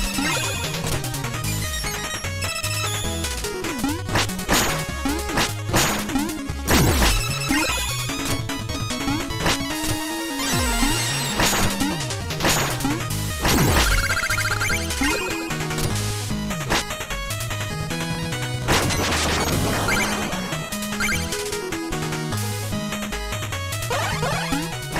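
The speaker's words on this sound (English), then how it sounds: "I'm going to keep going and keep smashing the checkpoints" Shovel Knight gameplay: chiptune music plays continuously while repeated crunching smash effects ring out as checkpoints get broken, dense and loud with no talk.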